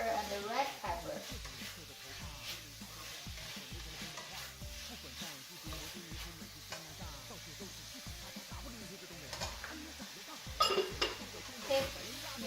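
Beef with green and red peppers being stirred in a pan, with a steady sizzle of frying under scraping and clinking of the utensil against the pan, close and moderately quiet.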